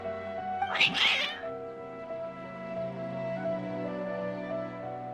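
Cats in the video game Genshin Impact let out an agitated, strained meow burst followed by fainter drawn-out cries over a steady musical backdrop.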